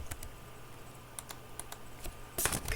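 Quiet computer keyboard typing, a handful of sparse key taps at first, then a quicker burst of clicks near the end, close and isolated against a faint background hum.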